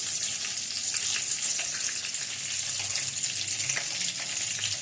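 Beef tikka kebabs frying in a pan give off a steady, dense sizzle with small crackles and spatters, continuous and close, with no voices.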